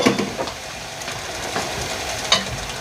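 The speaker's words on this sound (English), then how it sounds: "My next step is to add my peas." Peas go into a pot of cooking greens and pork, bringing a soft continuous sizzle with a few sharp stirring clinks and scrapes scattered throughout, close up and without speech.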